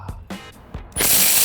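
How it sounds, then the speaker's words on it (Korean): Several light knocks and clicks from positioning a Milwaukee M18 mid-torque impact wrench on a tire lug nut, then a sudden, loud, buzzing rattle as the wrench starts hammering the nut loose. "타이어의 볼트 너트를 한번 제가 미드 하이 토크 렌치로 풀어봐 드리도록 하겠습니다"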